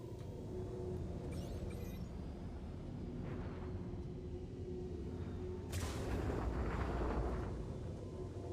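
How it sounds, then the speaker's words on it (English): A missile fires in the space game Star Citizen, a sudden broadband whoosh bursting out over a steady loud engine rumble and lingering for a couple of seconds. "I'm gonna fire a missile."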